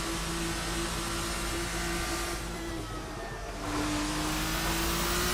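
Race car engine in the Assetto Corsa racing game droning steadily at high revs in third gear at Circuit Paul Ricard, a loud continuous tone with a brief dip in pitch and volume midway before climbing again.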